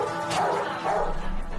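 A pit bull gives a couple of short, fairly loud barks over steady background noise, with nobody talking.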